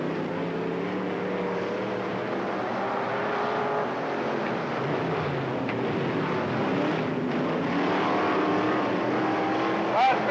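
Race cars roar around the oval at East Moline Speedway, a steady loud engine drone that rises and falls as the pack passes, with a race announcer talking over it throughout.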